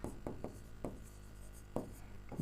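Chalk or marker writing on a board in a classroom, a series of short scratchy taps and strokes at an irregular rhythm, close and fairly quiet.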